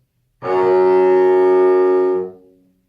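A single sustained bowed string note, F sharp played with the fourth finger, steady and loud, held for about two seconds before fading out, with no talking.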